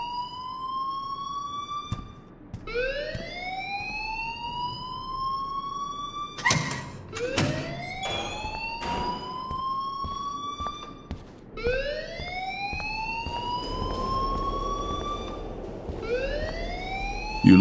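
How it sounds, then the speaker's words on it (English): Repeated electronic alarm in the video game Life is Strange, rising siren-like whoops that sweep upward again and again at a steady pace, with a few sharp clatters mixed in midway. "please turn off that alarm since that's your job"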